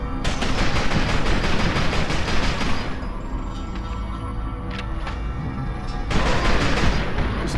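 Rapid bursts of automatic gunfire from a F.E.A.R. 2 firefight, loud and close, hammering steadily for about three seconds, easing to a quieter stretch of distant shots, then erupting again near the end.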